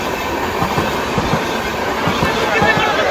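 A train rolls through Bamra railway station in Sambalpur, Odisha, its wheels clacking in a steady rhythm over a loud, continuous rumble, with a voice faintly present.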